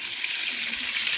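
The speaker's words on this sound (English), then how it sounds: "Searing everything in butter because butter is the best." Bone-in, skin-on chicken thighs seasoned with salt and pepper sear in butter, giving a loud, steady hiss of sizzling fat with no talking.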